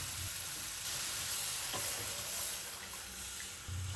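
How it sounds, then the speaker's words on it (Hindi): Yakhni stock hits a pan of fried mutton, giving a steady, broad sizzle and hiss with faint liquid splashing, continuous and close, with no voices. "अब इसमें यखनी डाल दें।"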